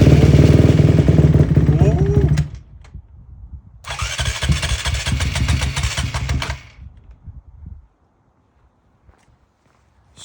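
A dirt bike engine under repair cranks and fires up, running loud and rough for a couple of seconds, cutting out, then catching again and revving unevenly before dying into near silence; close-up, with no voices over it.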